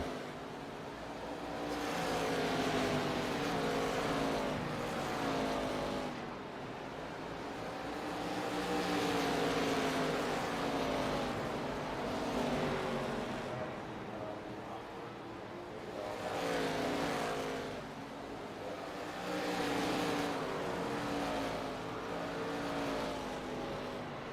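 ARCA race cars run under green flag at Five Flags Speedway in a racing game, their engines droning continuously and swelling in repeated waves every few seconds as the pack laps, with no talk over it.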